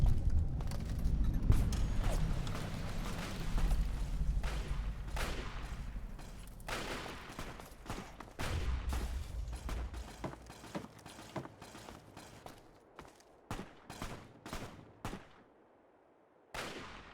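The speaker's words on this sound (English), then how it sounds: "So there's two parties here trading fire." Two parties trade gunfire in the Fallout game Tale of Two Wastelands near Falls Church: repeated loud shots and bursts, some rapid and overlapping, then sparser cracks spaced apart with quiet gaps, no talking.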